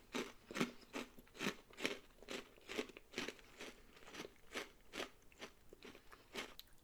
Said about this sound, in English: So that one definitely took a little more effort to chew.